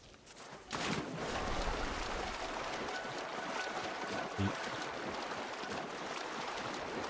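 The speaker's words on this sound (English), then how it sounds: "Go and swim in the water." A character swims through shallow water in Assassin's Creed Shadows: a continuous splashing, rushing wash that starts abruptly after a quiet moment and keeps going steadily, with a brief knock partway through, no talking.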